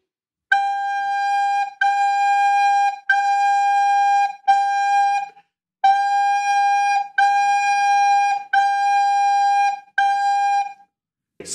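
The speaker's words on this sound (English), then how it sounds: "G note, three fingers. Play along with me." A soprano recorder plays a steady, clear G note eight times in a row, each held for about a second with short gaps between, clean and pure with no background noise.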